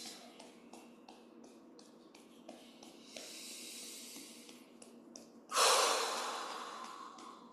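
Slow, audible breaths are drawn in and out during a quiet qigong practice, with soft rhythmic breathing followed by a longer, louder hissing exhale, close to the microphone and without talk.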